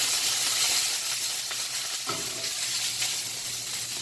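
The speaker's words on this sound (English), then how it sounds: "coconut oil has a higher temperature as for when it starts to fry" Food sizzles and crackles steadily as it fries in hot coconut oil, a continuous close hiss with no voices.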